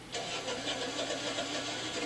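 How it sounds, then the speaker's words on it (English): A Generac standby generator engine cranks and catches, then settles into a steady, loud mid-pitched running drone for about two seconds, close and without voices. "Put the generator's mode switch in manual and wait for the engine to start."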